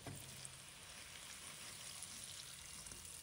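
Sweet potato pieces deep-fry in oil with a soft, even bubbling hiss and occasional faint pops, quiet and continuous throughout, with no voices.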